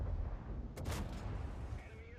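A single tank cannon shot in the video game World of Tanks, a sharp booming blast partway through, over steady low engine rumble and background game noise.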